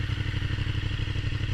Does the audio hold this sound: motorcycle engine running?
yes